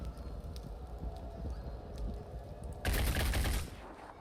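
A weapon fires a rapid burst in the video game Phoenix Point, a loud crackling volley near the end after quieter background game ambience.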